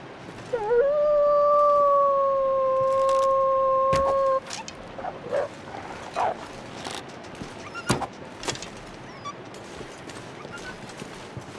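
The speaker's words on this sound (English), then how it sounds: "I heard that wolf." A wolf in The Long Dark howls in a long, steady, loud call lasting a few seconds, then gives way to quiet footsteps and scattered sharp game sounds.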